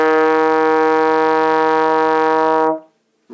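A trombone sustains a single steady E flat in third position, loud and alone for nearly three seconds before cutting off, with a brief faint sound after.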